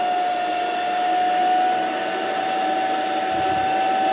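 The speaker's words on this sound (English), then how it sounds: "I'm gonna go grab my vacuum and we're gonna test this out." A household vacuum cleaner runs continuously close by, drawing air out of a trash bag in a trash can, a steady loud whine with a constant high tone and no pauses.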